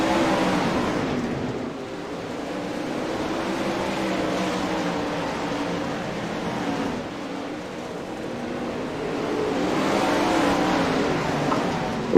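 Race cars at a dirt track in Kokomo accelerating at a restart, a loud, dense engine roar sustained throughout with rising and falling revs as the pack pulls away, no voices.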